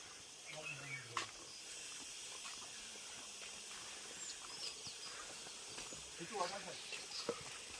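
A small waterfall near Panchalingeswar temple gives off a steady, broad hiss of falling water, constant and moderately distant, with faint birds and occasional voices and scattered sounds over it.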